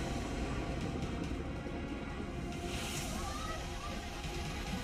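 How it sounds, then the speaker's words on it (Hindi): Floodwater rushing through streets in Vietnam, a steady loud roar of churning, sloshing water with no let-up, a news narrator talking over it. "वियतनाम में सैलाब का ऐसा विकराल रूप है कि सड़कें नदियां बन चुकी है।"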